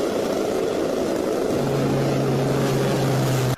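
An A-10 attack jet's 30mm cannon fires a long sustained burst: a loud, continuous buzzing roar with a steady low droning hum underneath, with no voices.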